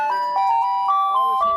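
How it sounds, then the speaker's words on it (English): Tinkling chime melody from an old ice cream truck, a steady electronic tune of repeating bright notes, loud and close, with no other sounds over it. "She bought an old ice cream truck and has been reinventing it into her mobile outreach hub"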